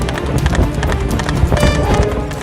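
A horse ridden along village roads by an electricity bill reader clip-clops steadily, with quick, close, loud hoofbeats in a continuous running rhythm throughout.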